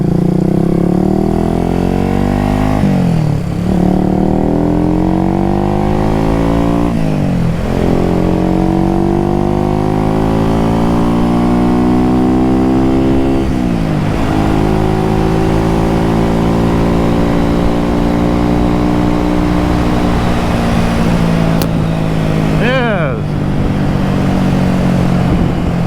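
Honda CB350 twin-cylinder motorcycle riding with a loud exhaust, the engine note climbing steadily through each gear, then dropping sharply at every shift, continuous and close throughout.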